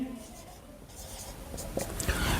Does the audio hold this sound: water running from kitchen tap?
no